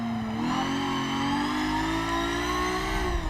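Car engine revving steadily upward through the gears in the racing video game Forza Motorsport 7, a continuous loud mechanical whine climbing in pitch over a few seconds with no talk.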